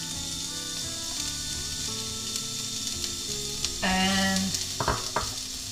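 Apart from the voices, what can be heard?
chopped onions sizzling in a hot pan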